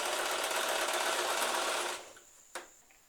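A sewing machine stitches fabric for a pajama or nightgown in one continuous loud run that stops abruptly, followed by a single sharp click.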